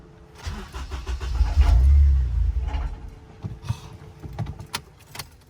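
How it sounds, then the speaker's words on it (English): A Honda Accord fitted with a K-series engine starts for the first time after a rebuild: a low cranking rumble swells and catches over a few seconds, then fades into scattered clicks and clunks near the car. "First startup of the Honda Accord"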